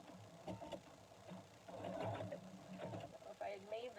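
Sewing machine stitching a ball snowman, a fast steady whirring hum of the needle running in short bursts that speed up and pause, with a person talking over it.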